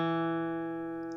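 A lone guitar note, the D string fretted at the second fret, is plucked nearby and rings cleanly with rich overtones, fading gently over roughly a second with nothing else heard.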